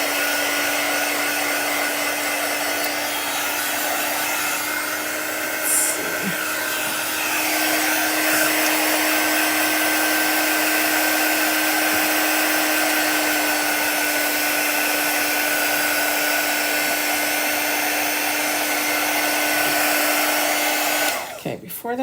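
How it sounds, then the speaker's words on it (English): Quick dry heat tool blowing hot air over chalk paint, a steady loud whirring hum with a fixed whine running nearly unbroken for over twenty seconds, ending with a brief clatter as it is switched off. "let's take our quick dry tool and get that dried up"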